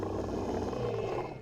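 A tiger in the video game Jade Empire lets out a sustained, rumbling roar, loud and close, fading slightly toward the end with no talking over it.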